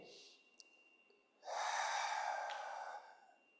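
A long, steady, breathy exhale during a turtle breath pelvic floor exercise, close and clear, following a softer intake of breath, with no talking.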